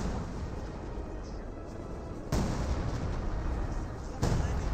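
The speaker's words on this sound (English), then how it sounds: "Bit of artillery there for something" Artillery fire in the WWII strategy game Company of Heroes 2 sounds as two deep booming blasts over a steady low rumble of battle noise, with no talking.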